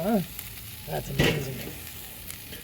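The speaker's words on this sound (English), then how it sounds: "Oh, look at that bacon grease flare up," Bacon grease flaring up on a charcoal grill, a short burst of hissing sizzle under brief talk, with crackling flashes rising and fading over a couple of seconds.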